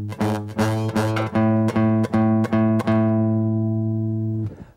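A single guitar string fretted close to the front of the fret is picked repeatedly, giving a clean, steady pitched note that rings out about eight times in an even rhythm before fading, with no talking.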